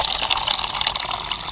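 Clean water is poured into a container for a homemade plant fertilizer, making a loud, close, continuous gushing splash from start to finish.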